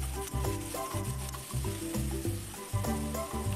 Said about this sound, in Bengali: এটা আমি দিয়ে দেব। দিয়ে ভালো করে ভাজতে থাকবো।